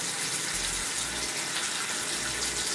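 Makeup brush rinsed under a running tap, a steady broadband rush of water with a few low bumps as the bristles are worked in the stream, close and continuous, no talk.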